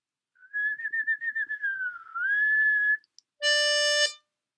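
A sustained whistle-like harmonica tone, the 4 draw note D, held for a few seconds with slight wavering, followed by a brief brighter, harmonically rich reedy note; close, clear and alone.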